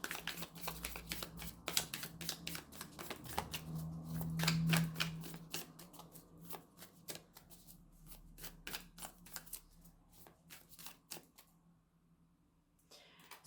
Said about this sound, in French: on va tirer une carte de conseil en mettant le jeu à l'endroit